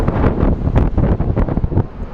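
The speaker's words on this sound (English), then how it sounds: "The wind is picking up, my friends," Strong gusts buffet an outdoor microphone at an airport plane-spotting spot, a loud, continuous rumbling roar with repeated bursts, heard alone without talk.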